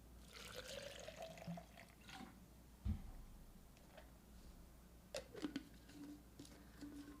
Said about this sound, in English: add some water